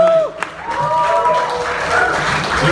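A comedy club audience applauds comedian Rich Wentz at a stand-up show in Duluth, Minnesota, giving steady, dense clapping from a crowd, with a host's voice heard over it.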